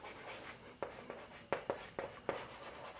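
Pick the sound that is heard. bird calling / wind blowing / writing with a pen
writing with a pen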